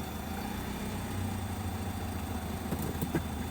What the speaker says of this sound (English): This is a 2014 Nissan Altima. And putting it in gear and moving it forward